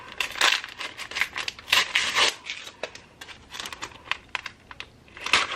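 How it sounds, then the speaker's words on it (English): Wrapping paper tears and crinkles off a wrapped book, close at hand, in quick papery rips and rustles that come in bursts. "So sad to rip off the wrapping paper, but I think it's time that we just do it."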